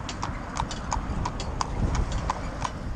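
Hooves of a young Fell pony clip-clop in a steady, even rhythm of distinct close knocks, with a low rumble of outdoor background underneath.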